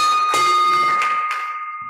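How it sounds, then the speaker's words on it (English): A bell at a Rotary Club civic meeting in Oakland rings out in a few bright, close strikes. The long, shimmering tones overlap and slowly fade, with no talk over them. "Rings the bell for David Stein."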